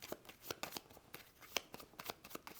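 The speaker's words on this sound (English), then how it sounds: "Then when this happens, these get shuffled." A deck of cards being shuffled during a solo tabletop game, giving a run of quick crisp riffling snaps and flutters, close and fairly quiet with no voices.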